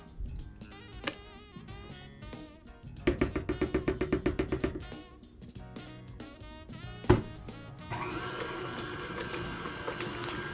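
A stand mixer's paddle working vanilla bean cheesecake batter, heard as a steady whirring motor with rhythmic knocking and thumping, then a harsher, brighter grinding whir in the final seconds, close and moderately loud.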